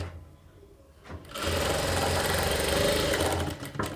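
Sewing machine stitching the seams of a princess cut blouse starts up after a quiet second, then runs in a loud, steady, fast mechanical whir close by, slowing slightly at the end.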